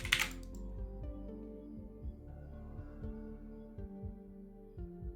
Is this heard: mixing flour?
no